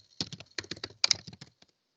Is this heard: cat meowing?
no